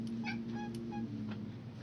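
Pet cat Sakay meows in several short, faint, high calls close by in a quiet room, with a low steady hum beneath.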